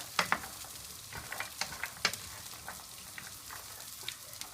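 Almonds stirred and toasted in a dry pan until golden, a close crackling sizzle with scattered sharp clicks and rattles as the nuts shift, continuous without pauses and no talking.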